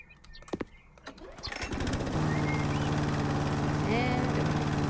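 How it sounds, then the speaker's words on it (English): In the House Flipper video game, a lawnmower engine cranks with a few sputtering pulls, then catches and settles into a steady loud running drone. "Lawnmower! Give me the lawnmower."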